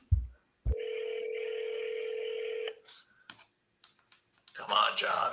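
A telephone dials out with a click, then a long steady tone and a few short beeps, followed by faint rustling and a burst of noise near the end.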